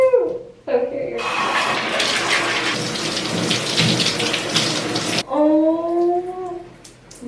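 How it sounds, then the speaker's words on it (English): Shower water pours steadily while hair dye is rinsed out, a loud broadband spray between short spoken bits at the start and end. "now I'm gonna rinse it all off"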